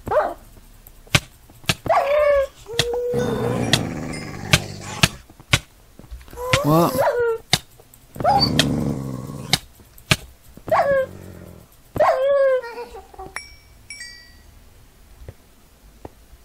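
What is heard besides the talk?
evil dogs barking in modded Minecraft video game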